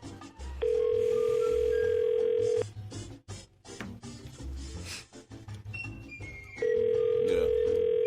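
A telephone busy signal on a call to a shoe store sounds as two long steady tone bursts, loud and close, separated by a few seconds of background music and faint noise.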